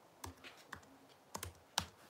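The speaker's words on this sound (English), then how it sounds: "I'm still typing. I'm typing away." Several distinct keystrokes on a computer keyboard tap out in a sparse, irregular rhythm, close and fairly quiet, with no talk.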